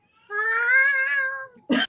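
A cat named Daisy gives one long, clear, drawn-out meow lasting over a second, close and alone, followed by a brief sharp burst of another sound.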